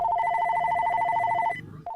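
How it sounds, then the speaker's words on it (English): Telephone ringing in a steady electronic warble that stops near the end, followed by a brief faint chirp. Clear and close, with no talk over it. "It all starts with a phone call."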